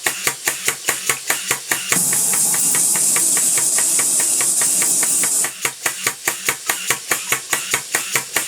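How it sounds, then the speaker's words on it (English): A small Alexander Karnes steam engine running in a workshop, puffing in a quick regular chuff, with a sustained loud hiss of steam in the middle before the rhythmic exhaust beats return, close and without talk. "Seems to be steaming a lot better today than it did last time."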